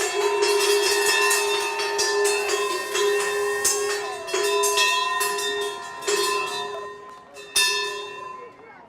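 The NYSE closing bell at the end of the trading day rings loud and close, in rapid, repeated metallic strikes that keep going for about nine seconds, with each clang ringing on into the next.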